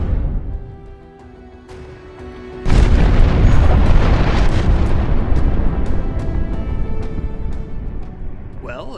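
Nuclear warhead exploding in the video game RimWorld: after a quiet stretch, a sudden deep boom erupts into a sustained rumbling roar, with a voice talking over it.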